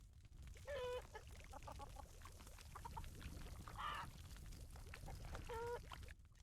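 Caged birds in The Waylanders video game give off several squawking, honking calls in short bursts over a low, rumbling ambient bed, fairly quiet and without talk.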